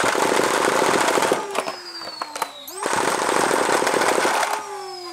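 A gun fires full auto in a workshop, loud dense bursts of rapid rounds running for over a second, a brief break with a few scattered cracks, then another sustained full-auto burst.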